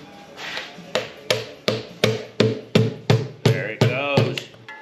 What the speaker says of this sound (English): Let me get my oil pan chisel.